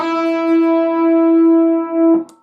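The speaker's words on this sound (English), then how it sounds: "starts off with a slide to the E note on the B string" An electric guitar slides up to an E on the B string, then holds a single clean, loud sustained note for about two seconds before it is cut off.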